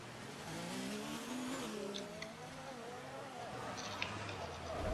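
Race car in an F1 video game sliding out as the rear end lets go, engine drone steady throughout with faint tire scrub, while a voice talks over it.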